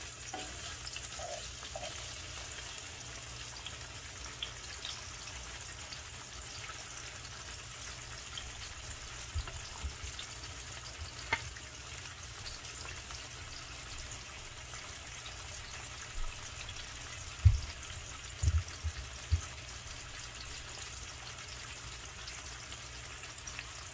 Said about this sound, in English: I'm going to just pan fry the tilapia fillets